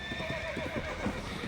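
Horse galloping with rhythmic clip-clop hoofbeats and a drawn-out neigh in the Reverse 1999 video game, steady and close with no talk.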